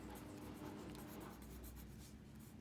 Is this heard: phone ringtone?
no